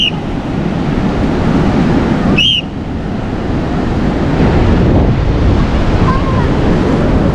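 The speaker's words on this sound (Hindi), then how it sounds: "अभी इस वक्त हाई टाइड आ रही है पूरी" High tide waves roll onto Goa's beach, a loud continuous roar of surf with steady wind buffeting the microphone and a brief chirp partway through.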